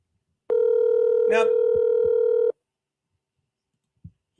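An outgoing telephone call gives one steady electronic ringback tone lasting about two seconds. Someone speaks briefly over it, and then the line goes quiet apart from a few faint clicks.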